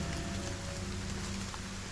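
Steady rain falling on a surface at night, a dense continuous hiss with low rumbling underneath, even and unbroken throughout with no voices.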